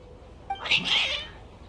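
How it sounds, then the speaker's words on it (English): Cats meowing in the video game Genshin Impact, a short agitated yowl rising and falling once, fairly close and clear over a quiet background. "Your cats seem pretty worked up."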